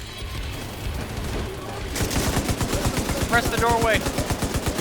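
A light machine gun fires in The Division 2, a loud sustained rapid-fire burst of evenly spaced shots after a quieter stretch, with a voice speaking briefly over the gunfire.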